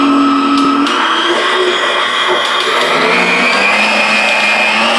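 An electric hand mixer whips egg whites into meringue for a Philippine egg pie, a loud, steady whirring drone that shifts pitch as the speed climbs, with no pauses.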